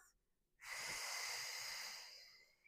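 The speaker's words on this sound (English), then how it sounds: "take a deep breath in through the nose and a nice controlled exhale through the mouth" One long, steady breath of air, soft and close, swelling after a brief quiet moment and then easing off gradually, taken during a gentle Pilates class.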